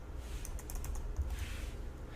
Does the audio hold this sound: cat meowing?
no